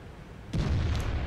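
A tank cannon shot in World of Tanks on the Airfield map, a single sudden low boom about halfway through that then holds as a heavy rumbling tail, with no talk over it.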